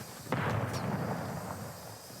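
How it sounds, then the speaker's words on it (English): A single sharp, booming gunshot from a shooter video game hits after a brief lull, followed by a decaying rumble that fades over the next two seconds. "I got someone shooting me in my back"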